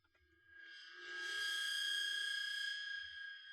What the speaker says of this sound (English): And then a bowed cymbal.